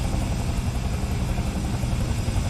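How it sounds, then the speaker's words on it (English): A helicopter engine keeps running just after touchdown, a loud, close, continuous droning whir with a low rumble that holds steady from start to finish and has no talking over it. "Only the first time landing a helicopter on the stream."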